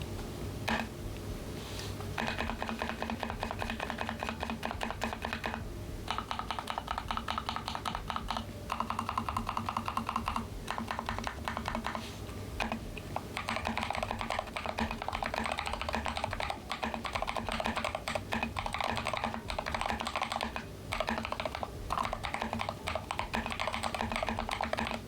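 Someone types on a computer keyboard for a long stretch, a fast, continuous clatter of keystrokes with brief pauses and no voices.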